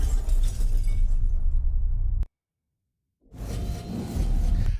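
Designed effect of glass shattering and a building breaking apart: a dense, loud crash of debris that cuts off abruptly into silence, then a second burst of shattering rubble swells back in.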